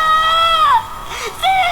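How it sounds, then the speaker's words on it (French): A dark, nightcore-styled version of the TV character Victor screams in a high, sped-up wail that slides downward, breaks briefly, then rises again for a shorter shriek. "Victor, version dark, apparaît et hurle en version nightcore à te faire saigner les oreilles"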